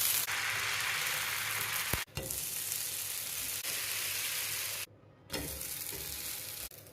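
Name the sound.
urad dal dosa cooking on a hot pan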